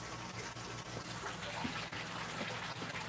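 Water being drained down in an aquarium tank, a continuous rushing, gurgling flow that stays steady and fairly close throughout.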